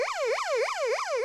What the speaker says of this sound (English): It has an emergency siren.